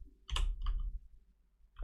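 Two close, sharp clicks from a computer keyboard come in quick succession, followed by a pause and then a third click, with a soft room hum behind them.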